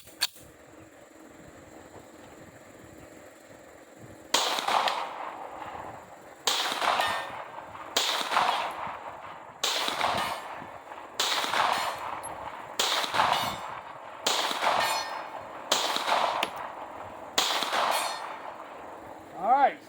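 Ten or so sharp pistol reports from a Tisas 1911 DS Duty fitted with a compensator, fired at a 100-yard target. The evenly spaced cracks come every second or two after a quiet start, each trailing a brief ring.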